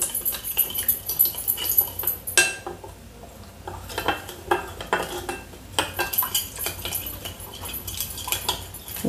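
A spoon clinks and scrapes rapidly against a bowl while stirring instant yeast and sugar, close and busy with short bright taps in an irregular rhythm.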